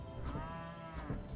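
Cattle lowing in the tower defense game Element TD 2, a single drawn-out bleating call close up over faint background game noise.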